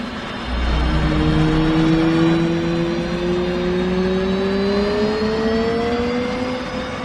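F/A-18C Hornet right jet engine spooling up in the DCS World flight simulator, a loud steady turbine roar with whining tones that climb slowly in pitch, heard alone without talk.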